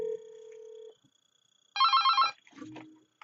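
An Avaya IP Office analog desk phone rings with an incoming call, sounding as one bright, warbling electronic ring burst after a steady tone, with a short low sound trailing off afterward.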